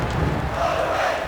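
Crowd noise from the 1999 WWF Attitude wrestling game on Sega Dreamcast, a dense, steady roar of cheering fans filling the short stretch with no clear voices on top.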